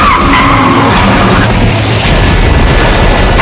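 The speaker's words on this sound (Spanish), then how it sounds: "persecución de coches" Tires skid and squeal loudly as cars race through a car chase at a Disney World stunt show, a continuous close screech with engine roar and a low boom.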